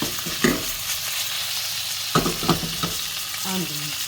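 Beef chunks for stew browning in a pot give a steady, close frying sizzle, broken by a few sharp knocks and scrapes of a stirring utensil.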